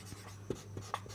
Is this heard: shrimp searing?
no